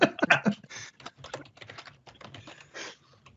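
Close-up typing on a computer keyboard: a quick burst of loud clacking keystrokes, then softer, irregular tapping that carries on steadily, with no voices.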